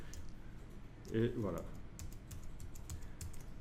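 A short burst of computer keyboard keys pressed together for a shortcut, faint clicks with someone speaking briefly over them in a quiet room.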